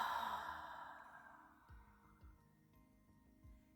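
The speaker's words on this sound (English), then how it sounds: "Second breath." A single deep, slow breath taken during an EFT tapping session for anxiety, an audible airy exhale close to the microphone that fades into quiet room tone.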